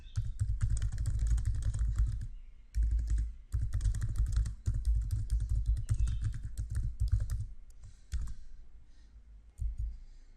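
Rapid typing on a computer keyboard while composing an email message, dense bursts of close clicking keystrokes with brief pauses between runs, clear and alone without talk.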